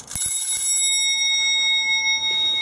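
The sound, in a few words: ringing a bell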